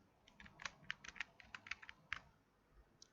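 A computer keyboard being typed on to enter a name, a short burst of quick, light key clicks in an uneven rhythm, then a pause and a couple more taps, close and quiet.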